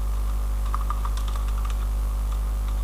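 Keystrokes tapping out an SQL query on a computer keyboard, a quiet run of light clicks clustered in the middle over a steady low electrical hum, with no voice.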